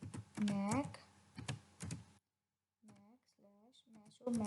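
Quick bursts of clicky keystrokes on a computer keyboard come in short runs with small gaps, heard close and fairly quiet, with someone talking over the typing.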